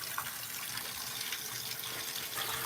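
Water runs in a soft, steady trickle, faint and continuous like a tap or a small stream, with no voices over it.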